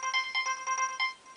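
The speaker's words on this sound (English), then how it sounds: "Oh, looks like they're trying my cell phone now." A cell phone ringtone chimes in a quick, repeating pattern of bright tonal bursts, moderately loud, then trails off.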